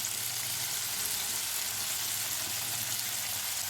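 Chicken barbecue pieces fry in oil in a pan over low flame, giving a steady, soft sizzling hiss that stays even and close throughout.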